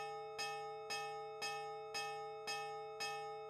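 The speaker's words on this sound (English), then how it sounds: "Then we heard deafening clanging from outside. Are those bells?" Loud bells clang in a steady, evenly spaced sequence of six ringing strikes, each with a bright metallic attack and a sustained hum between hits, part of the game Nightshade's soundtrack.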